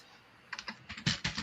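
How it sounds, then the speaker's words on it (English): A computer keyboard typed on during an online group call, a quiet lull followed by a run of distinct clicky keystrokes in uneven bursts, fairly close and alone with no talk. "there's a lot of typing from someone."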